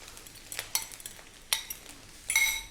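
Beaten eggs with oyster sauce cooking in a pan for Chinese takeout special fried rice, with sharp scraping clinks of a utensil stirring and a faint sizzle beneath, loudest in a final burst of stirring.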